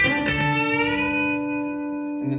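A single bent note rings out on an electric guitar with a B-bender, the B string pulled up in G and sustaining as it fades, with a fresh pick attack at the end.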